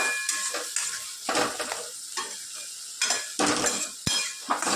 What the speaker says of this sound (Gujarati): ડુંગળી અને સિંગદાણા સરસ બધું શેકાઈ જાય. 5 મિનિટ એને શેકવા દઈએ.